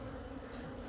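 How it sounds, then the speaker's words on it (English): Honey bees moving from flower to flower gathering nectar, a steady, dense, close buzzing drone that continues without a break and with no voices. "bees move from flower to flower, gathering nectar"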